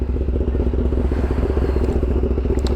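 A Raider 150 motorcycle engine warming up at idle, a steady close putter with an even rapid pulsing beat that runs loud throughout.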